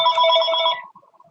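A phone rings once with a bright electronic ringtone, loud and close, then cuts off into near silence.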